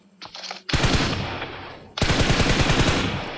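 Bursts of rapid automatic gunfire in a mobile battle-royale video game room match, loud and dense: a brief soft shot, then a long sustained burst, a short gap, and another sustained burst, with no talking.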